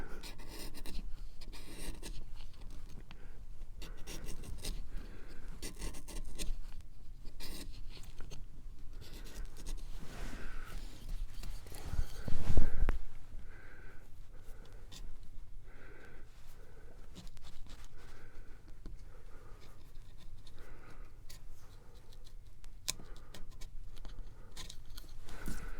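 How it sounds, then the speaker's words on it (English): A carving knife scrapes through a drier piece of wood while a wood spirit is carved, giving irregular, close, scratchy strokes that repeat quietly throughout, with one louder knock midway. "suddenly I've hit a much drier piece, and it makes a very different sound when you're cutting the wood back"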